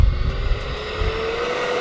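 USAF Thunderbirds RC jet airplane taking off on asphalt in a gusty crosswind, a steady loud engine roar with a low rumble at the start and a sustained whine running throughout, no voices.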